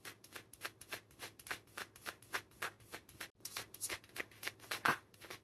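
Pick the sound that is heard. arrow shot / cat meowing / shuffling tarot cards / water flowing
shuffling tarot cards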